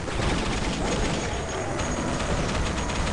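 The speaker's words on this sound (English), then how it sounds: "this is not a shotgun, this is his chain gun" Duke Nukem 3D's chain gun fires in a dense, continuous rapid barrage, loud and noisy throughout with no clear gaps, without talk over it.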